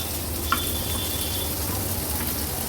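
Pieces of fish fry on a hot tawa in a close, steady sizzle, with a brief metallic scrape of them being pushed aside.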